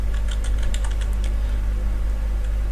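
Fingers tap out a Linux cd command on a computer keyboard, a quick cluster of close clicking keystrokes followed by a few sparse taps over a steady low hum.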